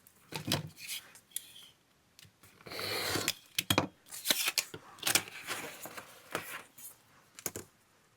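Scissors cut through paper for a monochrome journal spread, a series of close, crisp snips and rustles in uneven bursts, with paper handling between cuts.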